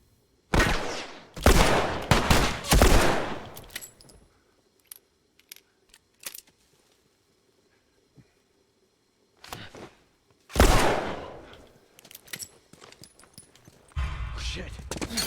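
Gunfire in the video game The Last of Us comes in loud bursts of rapid shots, with scattered single cracks and clicks in the quieter stretches, then another heavy volley.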